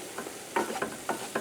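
Oil and flour roux for gumbo is stirred in a pot, with extra light olive oil as the fat, giving soft repeated scraping strokes at a moderate pace over a faint sizzle, with no talking.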